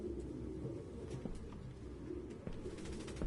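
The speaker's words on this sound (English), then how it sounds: "No human could live with all these fucking pigeons." Pigeons coo in Detroit: Become Human, a low, soft, continuous burbling from several birds close together, with faint flutters and scuffs, and no talking.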